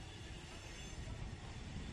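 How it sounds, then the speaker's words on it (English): A train rolls past a suburban football ground at night in Marrickville, a steady, broad rumble that holds evenly through the clip with no voices over it. "So trains going off everywhere."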